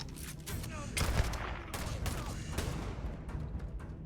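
Gunfire in the video game Starfield: dense, rapid bursts of shots crackle and boom continuously for several seconds, loud and close, with a faint voice underneath.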